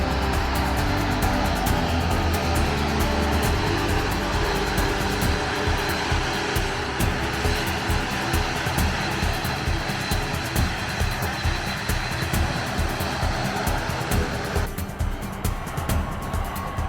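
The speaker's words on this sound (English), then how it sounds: "the next aircraft, the next flight, taxiing and taking off" A jet aircraft taxis and takes off from a private terminal area, a loud steady roar of engine noise with broadband rumble that holds for the whole stretch, thinning slightly near the end as it moves away.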